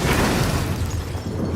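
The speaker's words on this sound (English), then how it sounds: "When bloater gas goes off, it creates an explosion." Bloater gas detonates in State of Decay 2 with a loud, close, broadband boom that spreads into a rumbling burst and stays strong for about a second and a half.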